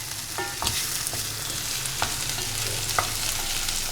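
Eggplant fries in oil in an open, uncovered pan, giving a steady, close sizzle and hiss. A spoon scrapes and stirs it a few times, and no one talks.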